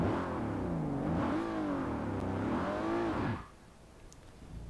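A car engine in Forza Horizon 4 revs hard and wavers up and down as the clutch is dumped, loud and close for about three seconds before cutting off abruptly into quiet.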